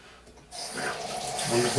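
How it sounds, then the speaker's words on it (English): Tap water gushing into a sink to rinse thick shaving cream off a razor, starting abruptly after a brief quiet moment and running as a steady close rush. "the razor gets too thick with cream, it's time to rinse it off"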